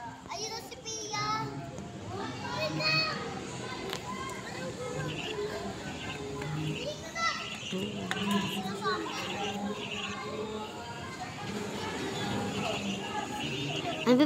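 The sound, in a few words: children playing noisily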